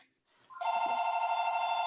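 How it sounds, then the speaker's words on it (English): A telephone rings during an online Zoom meeting, a sustained electronic tone that starts abruptly after a brief quiet moment and holds steady and loud, with a faint voice underneath. "mute yourself when the phone's ringing"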